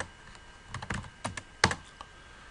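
Someone types commands into a Linux terminal on a computer keyboard, producing a quiet, irregular string of close key clicks and taps with one sharper keystroke near the end, no voices.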